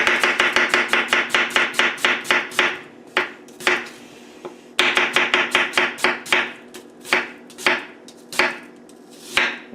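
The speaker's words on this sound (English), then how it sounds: "off the bat, sliced that onion" A cheap $20 santoku chef knife slices an onion on a cutting board, giving a close, rapid run of crisp chops, then a pause and a second fast run of cuts ending in slower, spaced strokes.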